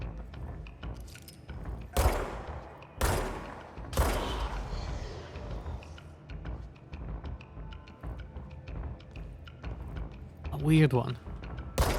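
Gunfire in the video game Control: several sharp, loud shots spaced a second or two apart, followed by quieter clicks and mechanical clatter and a final burst, with someone speaking briefly over it.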